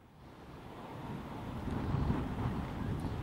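Strong cyclone winds batter the coast at Mandvi during Cyclone Biparjoy, a deep roaring rumble and microphone buffeting that swells steadily louder over a few seconds, with no voices.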